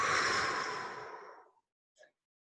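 A deep, audible exhale during a guided breathing exercise: one long breathy rush that fades over about a second and a half, followed by a brief faint breath sound after a pause.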